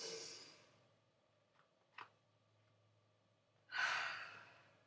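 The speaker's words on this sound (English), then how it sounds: "One more deep breath." A person takes a deep breath, a long soft exhale at the start, a small click midway, then a louder drawn-out breath near the end, close and alone in a quiet room.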